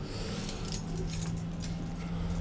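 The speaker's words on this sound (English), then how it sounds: "I've got so many keys." A large bunch of keys jangling close by in a city setting, a steady metallic shaking and clinking over a low background hum.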